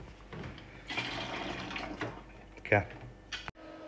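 Water mixed with cleaning solution rushes and gurgles through restaurant beer lines, a steady flow with a sputtering burst near the end, while people talk nearby.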